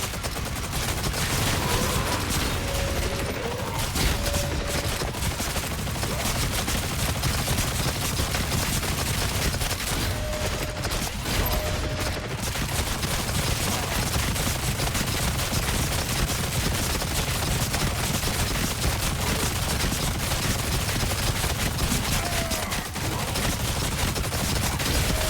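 Gunfire from Doom: The Dark Ages played on Nightmare difficulty. It comes as a dense, continuous barrage of rapid shots that stays loud and unbroken for about twenty-five seconds, with no talk over it.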